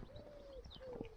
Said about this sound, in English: can you hear the pigeon?